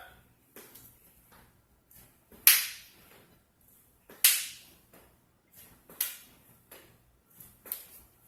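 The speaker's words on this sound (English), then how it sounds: "If you listen to when you're slapping my hand" Sharp hand slaps against an open palm during children's self-defense jab practice, four crisp claps about every one and a half seconds with a few softer taps between, close and clear in a quiet room.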